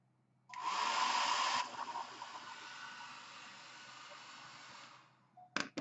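Hair dryer blowing close and loud over hearts painted orange, a steady airy roar that starts abruptly, softens slightly after a second, then cuts off, followed by a couple of small clicks.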